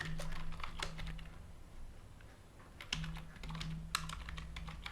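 Steady typing on a computer keyboard, close and continuous with irregular key clicks over a faint low hum, no talking.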